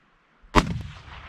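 A single sharp rifle shot fired at a bear during a fall backcountry hunt in Washington, loud and close after a quiet moment, followed by a rolling echo that fades out.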